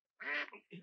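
A duck gives one nasal quack followed by a shorter second call, close and clear against silence.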